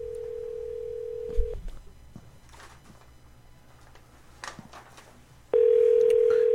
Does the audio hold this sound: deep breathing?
no